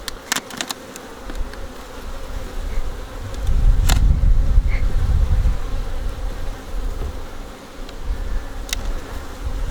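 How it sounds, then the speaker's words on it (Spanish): Honeybees buzzing steadily at an open hive, a close, continuous drone that swells louder in the middle with a few individual bees passing near. "Esto es una buena colmena"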